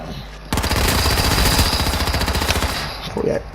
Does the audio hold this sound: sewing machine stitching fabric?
no